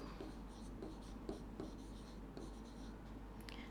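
Chalk or marker scratches across a board in short, rhythmic strokes during a chemistry lesson, faint and close against a steady low hum.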